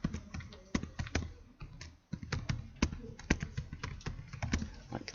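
Close, fairly quiet typing on a computer keyboard, a quick irregular stream of sharp key taps with one short pause, no voice over it.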